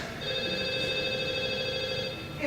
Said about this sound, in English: It's a phone.